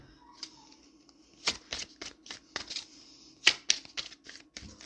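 Tarot cards being shuffled and handled, a series of crisp, uneven snaps and riffles in quick bursts close to the listener, with quiet gaps between and no talking.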